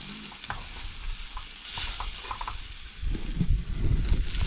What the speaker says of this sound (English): Stir it up. So you can smell it. Starts smelling like potatoes.